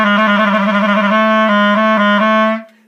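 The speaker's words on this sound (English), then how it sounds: "The note B flat sounds a half step below B," A clarinet holds a single sustained B flat, a steady reedy tone with rich overtones played loud and close, with a slight articulation bump before it fades out cleanly.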